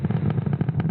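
A SpaceX rocket carrying Starlink satellites ascends through the atmosphere near max Q, a steady low roar with fast, irregular crackle that stays loud and close throughout the short burst.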